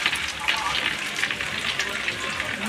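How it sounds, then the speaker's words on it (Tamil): Heavy rain pours down in a dense, continuous hiss of drops striking surfaces, steady and fairly loud with no breaks. "மழை பிச்சு வாங்குது."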